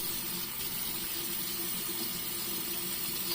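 Tap water runs steadily to wet a synthetic shaving brush, a continuous close hiss of flowing water with no pauses and no voices.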